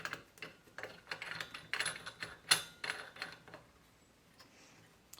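A Smith Little Torch fitting is threaded onto an oxygen tank by hand, giving a run of close, irregular metallic clicks and ratcheting scrapes that fade out near the end.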